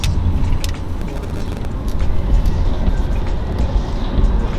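Steady, loud road traffic with buses and cars passing close by, a continuous engine rumble and tire roar, with occasional sharper noises above it.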